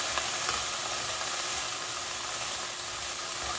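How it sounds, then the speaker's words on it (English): Coconut aminos hitting a hot stir-fry pan of beef and veggies, a steady broadband sizzle and hiss that holds at an even level throughout with no voices. "Because the coconut aminos are like, I'm a liquid and you just put me in a hot pan."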